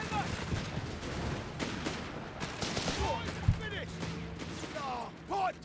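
Scoped Lee Enfield rifles fire in Company of Heroes 3 amid a broader battle, giving scattered sharp cracks and bursts at varying distances under a bed of game noise. A commentator talks over much of it.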